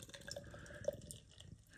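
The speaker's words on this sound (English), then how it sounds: "Let's get this beer into the glass." Juicy Bits hazy IPA from WeldWerks Brewing is poured into a glass, giving a brief, quiet liquid trickle and splash up close.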